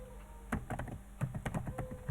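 A computer keyboard typed in quick, light bursts of key clicks at close range as a Kubernetes command is entered, with short pauses between clusters of keystrokes and no talking.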